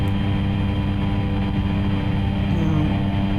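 Cessna 208B Grand Caravan turboprop in X-Plane 11 landing at Valencia with power at idle, a loud steady engine and propeller drone with a faint rising whine near the end and no talk.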